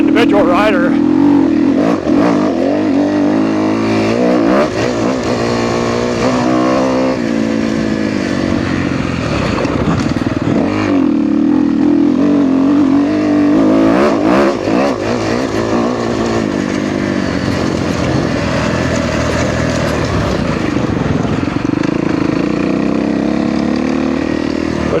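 A 2013 Kawasaki KX250F dirt bike engine roars loudly throughout a test ride, revving up and down continuously with rough, buzzy surges and wind noise.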